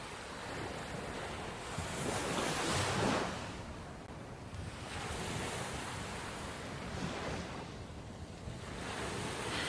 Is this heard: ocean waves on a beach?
yes